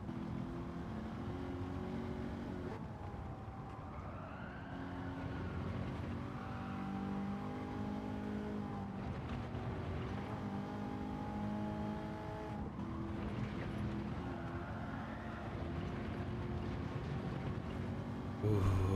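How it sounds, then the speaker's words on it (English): Race car engine in a racing video game time trial, revving hard in second gear with a steady loud drone and rising and falling pitch through repeated shifts, continuous and close throughout. "that's why you don't rev out second gear"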